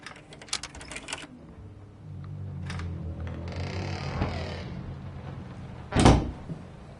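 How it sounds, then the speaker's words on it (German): A door slamming shut in the horror video game Layers of Fears on PS5: one loud, sharp bang near the end, following a low creaking, rumbling stretch and a few earlier knocks, with no talk. "Die verdammte Tür schon zu."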